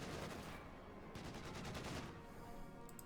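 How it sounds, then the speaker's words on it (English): Field guns fire in a Company of Heroes 2 battle, a rapid burst of shots rattling in quick succession under a dense, low-level wash of game noise. "Directed here from the 6th Division field guns. Second shot also goes through these."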